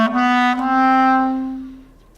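Bass clarinet sustaining a low C sharp fingered with the left pinky left down, one steady held note with rich upper harmonics that swells and then slowly fades, played alone.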